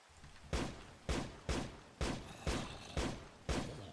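An Immersive Engineering turret firing in Minecraft, seven evenly spaced loud gunshot bangs roughly half a second apart, each with a short fading tail, with no voices.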